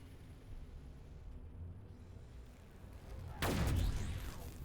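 Gunfire in Warhammer 40,000: Battlesector during a Blood Angels versus Tyranids battle, distant battle rumble followed by a loud burst of fire and booming impact late in the clip.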